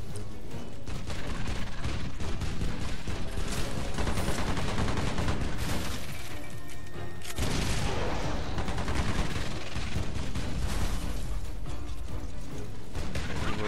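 Shotguns fire at flying enemies in the video game Earth Defense Force: Insect Armageddon. The blasts come loud and almost without pause, dense overlapping gunfire and booming impacts, with a brief drop near the middle and no voices.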